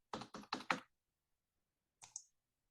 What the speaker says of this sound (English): you simply just key in your zip code